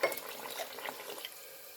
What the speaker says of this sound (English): and then put water in it